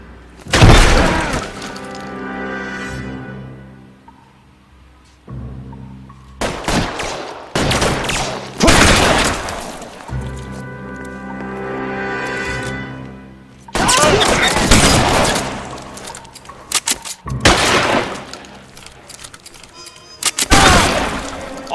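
Gunfire in the video game LA Noire comes in repeated loud bursts of shots with sharp cracks and shattering impacts, spaced by brief lulls.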